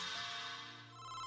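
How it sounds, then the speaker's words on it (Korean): A telephone rings with a bright electronic ringtone, a steady, dense warble that continues unbroken and close throughout, with no voices. "그러던 어느 날 아만다의 집으로 한 통의 전화가 왔습니다."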